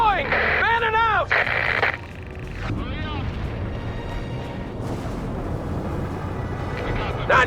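Mortar fire and battlefield explosions in the real-time strategy game World in Conflict, a continuous low rumble of distant blasts under radio-style voices speaking over it.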